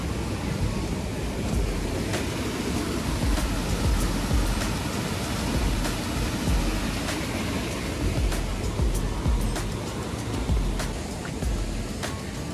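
Small streams flow beside a riverside trekking path in monsoon-season Mahabaleshwar, producing a continuous broadband rush of water with faint clicks scattered through it and no clear pauses.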